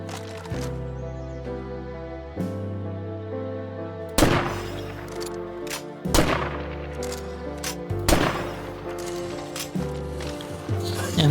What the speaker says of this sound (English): So I used the police sniper that I actually got from the bounty broker.